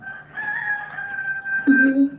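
A rooster at a neighbours' house crows in one sustained, fairly loud call, with a lower clucking or voice-like sound rising near the end.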